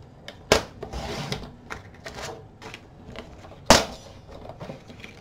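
A paper trimmer slices a 12 by 12 sheet of paper, two sharp close snaps of the blade several seconds apart with soft sliding and handling rustles of the sheet between them.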